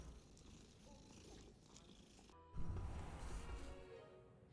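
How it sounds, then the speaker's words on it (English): A cat in the Hogwarts Legacy video game purrs steadily while being petted, a soft continuous rumble that grows slightly louder partway through, with no talk. "We gotta pet the cat again"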